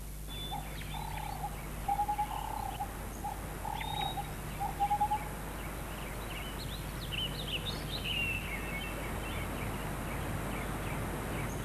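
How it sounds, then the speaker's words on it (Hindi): A pet parrot named Mithu Miyan chirps in short, repeated bursts, then gives a few higher whistling calls, moderately close over a soft background hum. "ये राजू का तोता है मिठू मियाँ"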